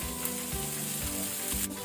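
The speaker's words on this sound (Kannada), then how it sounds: "ಈಗ ಇದನ್ನು ಮೀಡಿಯಂ ಫ್ಲೇಮ್ ಅಲ್ಲಿ ಸ್ವಲ್ಪ 1ರಿಂದ 2 ಮಿನಿಟ್ ಇದನ್ನು ಫ್ರೈ ಮಾಡ್ಕೊಳ್ಳಿ" Beans frying in a tempering over a medium flame for beans sukka give a steady, close sizzle that runs unbroken for the whole stretch.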